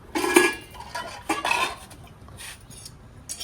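Dishes, pots and utensils being washed by hand, with a few sharp clinks and clatters of metal and crockery amid quieter rinsing, close by and without talk.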